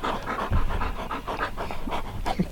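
A dog named Bear pants steadily and close by, quick rhythmic breaths continuing without a break.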